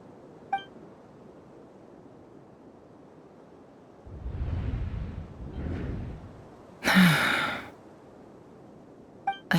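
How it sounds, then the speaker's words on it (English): A character in the video game Genshin Impact lets out an audible gasping breath, then gives a second softer breath. A sharp burst of sound follows, set against quiet game ambience. "I heard Yehuda gasp"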